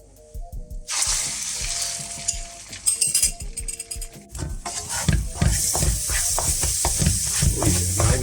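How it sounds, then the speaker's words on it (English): Eggs fry in a little oil in a hot wok, with a loud, steady sizzle that starts abruptly and stays up, broken by the scrape and clatter of stirring. "now we just cook the eggs"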